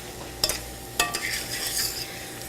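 Peaches cook in a pan as alcohol cooks off, giving a steady sizzle broken by a couple of sharp clinks and scrapes as they are stirred.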